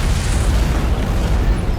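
A loud antimatter charge explodes aboard a ship in the Halo video game, a dense, sustained rumbling blast that fills the whole moment with no voices over it.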